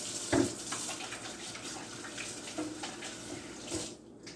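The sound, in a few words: washing hands under running tap water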